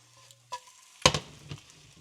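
An egg fries in a Hexclad pan and gets flipped with a utensil, a couple of sharp clinks and a thump over faint sizzling, close up with no voices.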